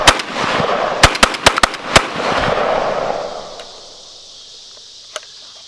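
Five loud, sharp blasts from a Beretta 1301 Tactical LE 12-gauge shotgun, fired close in quick succession in the first two seconds, each with a ringing report, followed by a lingering outdoor echo and one faint later pop.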